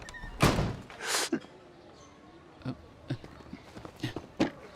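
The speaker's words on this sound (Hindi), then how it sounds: "ए, तुमने दरवाजा क्यों बंद किया?" A door is shut in a tense action-movie scene with two heavy, close thuds, then a string of lighter knocks and shuffling footsteps.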